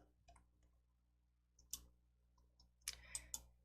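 A few light, sharp mouse clicks on a computer while working in PowerPoint, quiet and close, spaced irregularly with a quick cluster near the end.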